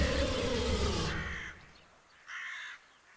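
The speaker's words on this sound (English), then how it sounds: "You scared the birds." Crows caw from a tabletop game's ambient sound set, one loud raucous call cutting off before a fainter, more distant caw follows after a brief pause, with no talk.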